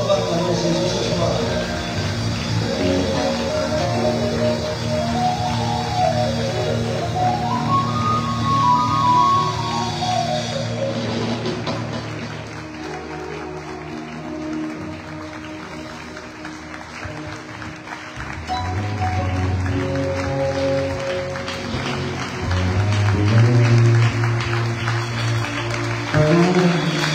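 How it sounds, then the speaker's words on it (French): A church congregation cheers and applauds for Jesus, with sustained clapping and crowd noise alongside music, swelling again later in the passage. "Est-ce qu'on va acclamer Jésus ce soir?"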